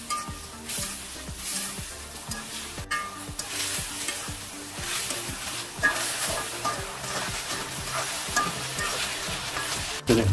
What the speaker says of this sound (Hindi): इसके साथ इस तेल के साथ हम इसको फ्राई करेंगे